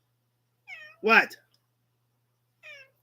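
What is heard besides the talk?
grey cat meowing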